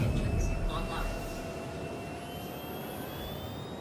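Spaceship engines power up in Star Citizen with a steady jet-like whine and rising tonal hum, a brief louder burst at the start settling into a sustained drone, while someone talks over it.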